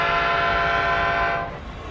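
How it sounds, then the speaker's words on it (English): A freight locomotive horn in a forested rail setting sounds one loud, sustained multi-tone chord that holds steady for over a second and then cuts off, leaving a low rumble. "Just then, he heard a familiar horn."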